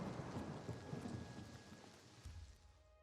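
Steady rain and rumbling thunder in the fantasy game Oblivion Remastered, a continuous downpour hiss with low rolling thunder swelling and fading across the moment, with no talking.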